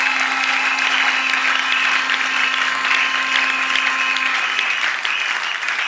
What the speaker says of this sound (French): Acclamons très fort le Seigneur